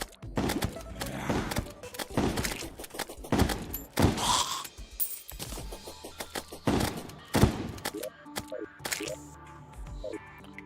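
Rapid gunfire from tungsten bullets in a video game, a series of sharp, loud bursts and thuds recurring irregularly throughout, with some mechanical clicks and tones between volleys.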